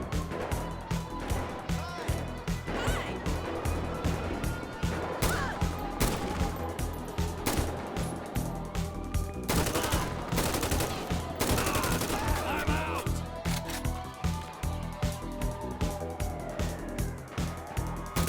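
Rapid, repeated gunfire from a modded custom weapon in the video game GTA 5, with dense volleys and bursts over game sounds and a low background hum across the whole stretch.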